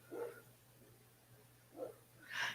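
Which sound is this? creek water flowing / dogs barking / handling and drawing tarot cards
dogs barking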